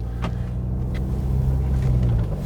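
Car driving out of a SuperValu supermarket car park, a steady low engine rumble heard from inside the cabin, with a couple of faint soft thumps and no talking.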